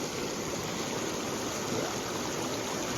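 Sullivan's River in Montana rushes in a steady, full broadband roar heard close up, with no pauses and no voices.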